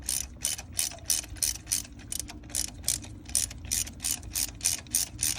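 A ratchet wrench with a 14 mm socket tightens a spark plug on a 2013 Nissan Rogue, producing a steady run of quick, close, crisp clicking bursts in a repeating back-and-forth rhythm, with no talking.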